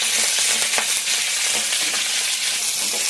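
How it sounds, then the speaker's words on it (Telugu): Green chillies fry lightly in a pan for a Telugu-style ivy gourd chutney, a dense, loud, continuous sizzle with faint crackles and stirring scrapes. "ఇందాక చూపించాను కదా పచ్చిమిరకాయలు, అవన్నీ వేపుతాను లైట్గాని"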